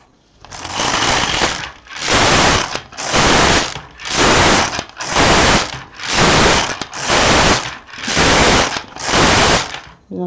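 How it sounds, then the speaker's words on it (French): A worn Brother LK150 knitting machine carriage, used for knitting bobbles, rattles and clatters loudly in eight regular back-and-forth passes, each a long grinding mechanical burst with brief pauses between, close and alone. "Vous entendez, mon chariot, il fait quand même un drôle de bruit."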